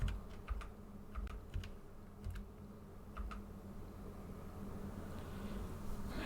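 Keystrokes on a 40% Piantor computer keyboard, tapped in short scattered bursts of crisp clicks over a steady low room hum, with no talking.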